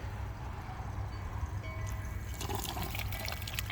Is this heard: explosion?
no